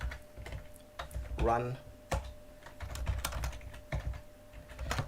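Scattered computer keyboard clicks and a few sharper keystrokes over several seconds, fairly close, with someone briefly speaking partway through.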